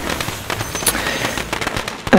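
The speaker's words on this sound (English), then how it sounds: "And the firecrackers are cracking." Firecrackers set off for Lunar New Year crackle in a dense, rapid barrage of sharp pops and bangs, loud and continuous, with a brief tonal whistle near the end.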